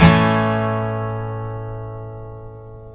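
One guitar chord in the key of A, high and low E strings muted, is struck once and rings out, bright at the attack and decaying slowly over a few seconds, alone.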